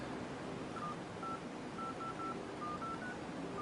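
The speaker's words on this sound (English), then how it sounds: "Just dial a fake number." Phone dial pad beeps as a number is keyed in on a smartphone with an AT&T microSIM, a series of short tones at an irregular pace over a steady background hiss.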